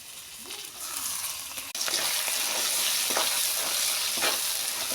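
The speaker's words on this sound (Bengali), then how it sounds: "এখন তেলে দিয়ে দেবো শাক" Leafy greens hit hot oil in a wok at about two seconds, turning a quieter sizzle into a loud, steady frying hiss with occasional crackles and stirring scrapes, no talk.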